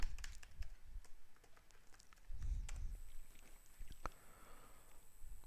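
A password is typed on a computer keyboard: scattered light, quick key taps spread irregularly over a few seconds, close and quiet, with no talking.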